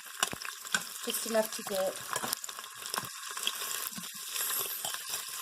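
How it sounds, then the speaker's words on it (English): Kielbasa browning in hot vegetable oil inside an Instant Pot gives a steady, crackling sizzle with scattered pops, running under a voice. "what I like to do is brown the kielbasa first"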